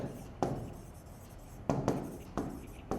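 Pen scratching on paper during a maths lesson, a few sharp strokes and taps spaced unevenly, close and fairly quiet with no talking.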